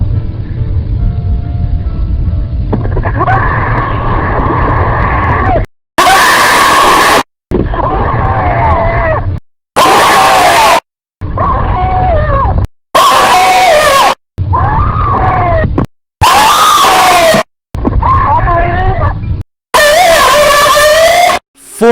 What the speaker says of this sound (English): her screams of terror and absolute horror was used in this game